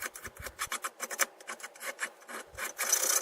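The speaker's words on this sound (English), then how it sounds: "Here I am cleaning up the edges just to make sure everything's smooth and round and nice" A file rasps along the edges of an aluminum kayak mounting plate in quick, even strokes, about a dozen short close scrapes in a steady rhythm.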